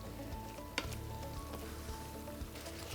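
Garlic and vegetables, alongside tofu, sizzle steadily in a pan over medium heat, with a crisp constant frying hiss and an occasional sharp clink or scrape of stirring.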